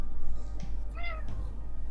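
A house cat gives a single clear, tonal meow in the middle of a short stretch, close and fairly loud, with faint handling noise and room hum around it and no talk.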